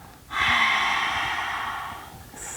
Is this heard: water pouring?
no